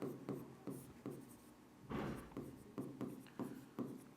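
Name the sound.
writing with a pen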